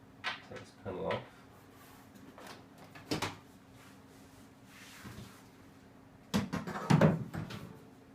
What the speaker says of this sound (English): Take this panel off.